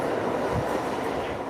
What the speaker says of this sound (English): As we get on the train,